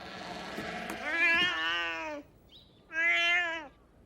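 A cat in a Naruto anime episode gives two clear, drawn-out meows, the first longer and the second shorter after a brief pause, close and distinct over a quiet background.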